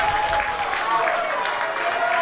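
Baseball fans applauding and cheering at a Michigan Monarchs at Lima Locos game, a steady wash of clapping from the stands under a play-by-play announcer's voice.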